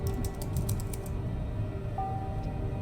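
A nickname is typed on a computer keyboard in Vampire: The Masquerade – Coteries of New York, a quick run of about a dozen close key clicks in the first second, then a quiet hum.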